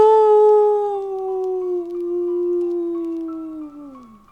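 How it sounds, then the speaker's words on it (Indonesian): A dog gives one long, sustained howl from a distance, holding a steady tone before sliding down and fading out, with no other sounds around it. "Auman panjang asu bohong itu terdengar dari kejauhan."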